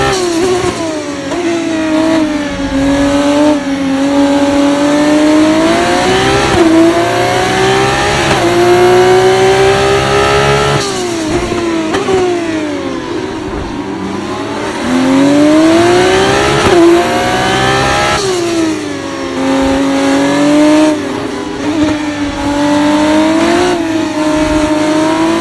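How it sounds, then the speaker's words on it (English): Formula 2 race car in a racing video game on the Baku street circuit, with a loud, continuous high-revving engine that climbs through gears, dips briefly as it shifts, and rises again. "they have recorded the F2 cars pretty well, and they have got some great sounds to them"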